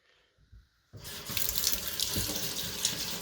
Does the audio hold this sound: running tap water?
yes